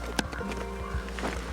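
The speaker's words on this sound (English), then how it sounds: "we've got the diesel heater roaring" A diesel heater at a winter campsite in Washington roars with a steady low rumble, joined by a few knocks and thumps, loud and close.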